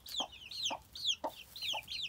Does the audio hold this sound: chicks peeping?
yes